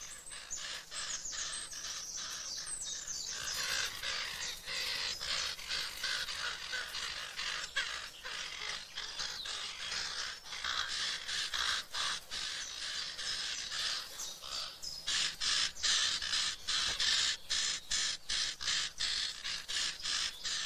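Raven chicks in a huge, long-used nest call incessantly, a dense rapid stream of harsh, raspy begging caws, close and loud, with brief pauses between bursts and no voices.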